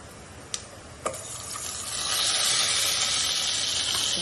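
Half a spoon of cumin seeds drops into hot oil for drumstick soup: two small clicks, then a rising sizzle that settles into a steady, close frying hiss, with no talking.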